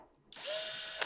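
A power drill during a bass pickup swap spins up abruptly after a moment of near silence and holds a steady, loud whine with a faint rising tone, then a brief clunk near the end.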